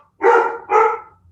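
Two loud, close dog barks come one right after the other indoors, each sharp and full, followed by quiet.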